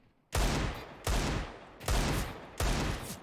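Pistol fire during a professional Counter-Strike: Global Offensive match, four sharp loud shots at a steady pace about three-quarters of a second apart, each with a short ringing tail and no talking.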